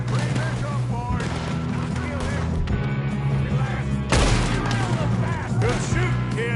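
Gunfire crackles through a Red Dead Redemption 2 shootout on PS4 against O'Driscoll gang members, dense bursts and booms layered over music and in-game voices calling out orders.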